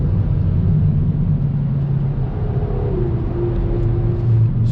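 A 2020 Kia Forte GT sedan with a dual-clutch transmission pulls out of a corner, its engine giving a steady, low rumble inside the cabin that climbs gently in pitch near the end, with no talking.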